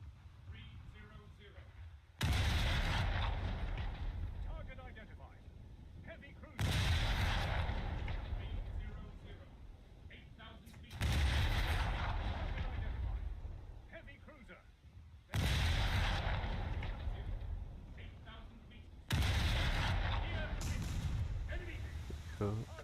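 Naval gunfire in the War Thunder video game, with four heavy booming salvos spaced a few seconds apart, each a loud sudden blast that trails off into rumble.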